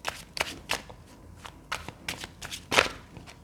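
A deck of tarot cards being shuffled by hand nearby, in a quick irregular series of crisp riffling bursts and soft slaps, with no talking.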